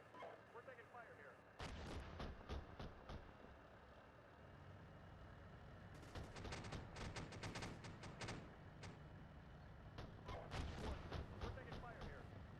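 Incoming gunfire and artillery in the tank simulator game Steel Beasts Pro PE, Finland campaign: repeated sharp bursts and heavy booms over a steady engine rumble, loud and near, with voices calling out in between.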